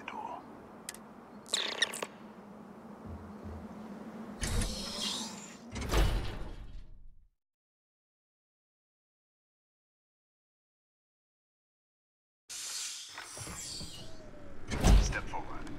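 A door in Starfield slides and creaks open with a mechanical scrape and clunks, then the sound cuts to several seconds of total silence before more mechanical clatter returns, with faint talk in places.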